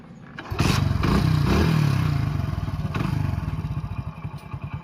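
A motorcycle starting up: a kick or crank, then the engine catches and settles into a steady, chugging idle with a close, pulsing rhythm that slowly fades, plus a few clanks and scrapes.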